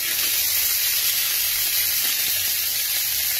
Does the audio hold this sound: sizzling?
yes